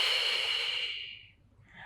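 One deep, close breath during a beginner Pilates mat exercise, a hissy airflow that tapers off after about a second, followed by a faint trailing breath.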